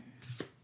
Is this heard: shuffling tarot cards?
yes